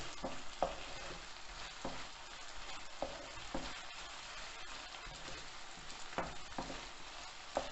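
An egg fries in a pan with a steady, soft crackling sizzle, broken by occasional clicks and scrapes of stirring, fairly quiet and close.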